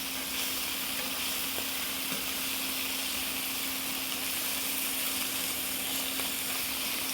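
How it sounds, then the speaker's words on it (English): Pork sears steadily in a hot frying pan, a continuous close sizzle with a faint steady hum beneath, cooked alongside acorn squash, apples and mushrooms for soup. "I'm looking to get a nice, beautiful sear on it like this."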